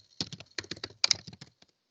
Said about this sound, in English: sorry, my typing is horrible